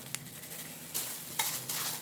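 Chopped green scallions and red, yellow, orange and green bell peppers drop into a cooking pot for curry goat, giving two brief bursts of rustling sizzle and stirring scrapes that stand out against a quieter background hiss.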